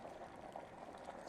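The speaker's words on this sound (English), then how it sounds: "now again you can see the water is changing into water vapor" Water heated to boiling for a classroom science experiment on change of state, giving a faint, steady bubbling and simmering with soft liquid churning throughout.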